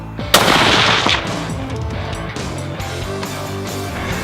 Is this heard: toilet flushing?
no